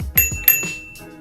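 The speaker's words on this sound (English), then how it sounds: "there's a cute little bell" A small handlebar bell on a Glion Dolly electric scooter rings in a quick run of bright, close dings that overlap and then fade out.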